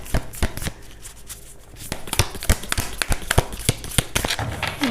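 A tarot card deck is shuffled by hand up close: rapid, crisp slaps and riffles of cards repeating in an uneven rhythm, with a quieter stretch near the start.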